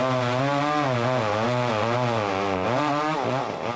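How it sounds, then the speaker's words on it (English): A chainsaw wielded by a haunted-attraction actor runs loud and close, its buzzing engine note holding steady and then wobbling up and down in pitch as the throttle shifts. "chainsaw."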